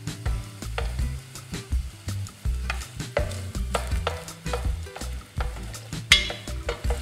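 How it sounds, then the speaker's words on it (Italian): Onion and garlic cooking gently in oil in a pan, with repeated stirring scrapes and soft knocks over a low, steady sizzle, close and moderately loud. "andiamo a profumare l'olio e a rosolare dolcemente la cipolla e l'aglio"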